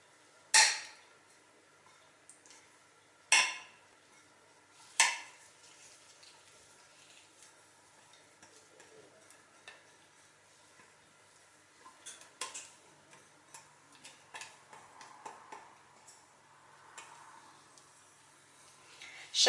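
Mixing melted 70% cocoa chocolate into a whipped yolk-butter mixture: faint scraping and soft tapping of a utensil against a bowl, with three sharper clinks early on and irregular quieter stirring after.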